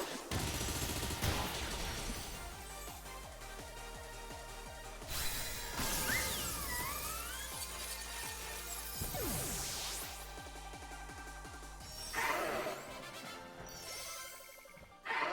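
Bullet Punch attack in the video game Pokemon Violet, a dense run of sharp, loud impact hits and whooshing effects over a steady game soundtrack, with several bright bursts punctuating the sequence.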